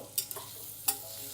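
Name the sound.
onions frying in a pan for paneer biryani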